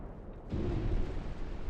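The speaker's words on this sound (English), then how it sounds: "Yep, we're gonna take another torpedo here, and we're not gonna survive it." A torpedo strikes and explodes against a warship in the naval game Ultimate Admiral: Dreadnoughts, first a faint rumble and then a sudden deep blast that keeps rumbling heavily to the end.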